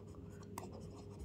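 Chalk or marker scratching steadily across a classroom board during a Bengali biology lesson on blood clotting, close and fairly quiet over a low room hum, with one sharper tap midway.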